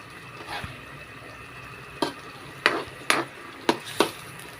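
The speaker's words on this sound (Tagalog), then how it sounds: "Haluin lang natin ng konti." A patola (sponge gourd) dish bubbling in a pot while being stirred, with a handful of sharp scraping and clinking strokes of the utensil over a low simmering hiss.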